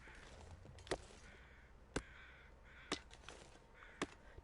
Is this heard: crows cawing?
yes